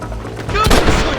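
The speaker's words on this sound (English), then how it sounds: "Stop shooting at me!" Loud, close gunshots ring out in the Western video game Red Dead Redemption, a couple of sharp cracks with a booming tail, amid a brief burst of shouted voice.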